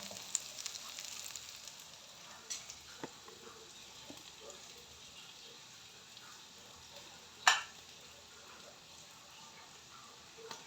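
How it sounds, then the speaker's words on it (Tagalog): Aromatic seasonings sizzle softly while being stirred and sautéed in a home-cooking pan, a quiet, steady fry with scattered light utensil clicks and one sharper scrape or clink near the end. "Mekos-mekos natin para lalabas ang mga aroma ng ating seasoning ingredients."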